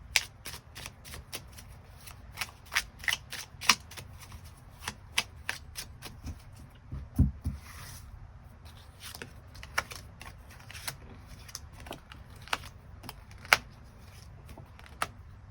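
Tarot cards shuffled by hand, a steady run of crisp riffling snaps and soft slaps repeating at close range for several seconds, with faint background hum and no talk.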